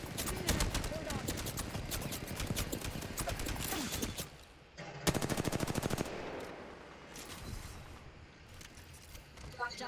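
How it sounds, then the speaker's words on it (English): Rapid automatic gunfire in Apex Legends from enemies flanking the player, dense bursts of fast shots rattling close and loud, pausing briefly before another volley. "Some flankers shooting at me."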